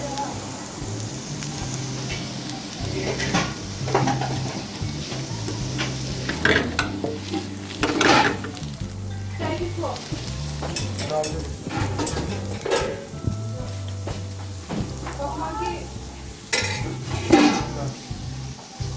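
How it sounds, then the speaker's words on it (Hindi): Onions frying in a pan for street-style masala Maggi with vegetables, a steady sizzle broken by frequent clattering stirs and utensil scrapes against the pot, close and fairly loud, with some faint speech in the background. "अनियंस का कलर चेंज होने लग गया है, थोड़ा सा और इसको फ्राई करेंगे।"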